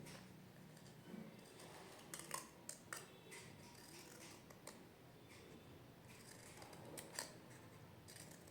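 Scissors snipping paper to shape a paper bird puppet, repeated small crisp cuts in an irregular rhythm, close but very quiet with soft handling noises between.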